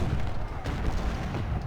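Cannon volleys from a Civil War battle at Brandy Station in Ultimate General: Civil War, a dense, continuous low rumble of overlapping booms heard at a steady, moderate level.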